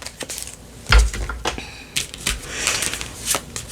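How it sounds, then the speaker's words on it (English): Tarot cards being handled and shuffled by hand, with close, crisp riffling and flicking sounds in irregular bursts, punctuated by a few soft taps and knocks. "Let me get a couple of these cards here."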